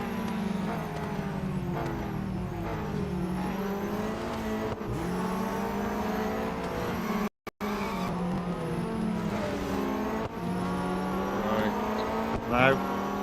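Race cars in Real Racing 3 roar through a series race, engines revving up and down through gear changes with tire squeal between, loud and continuous with a brief dropout midway.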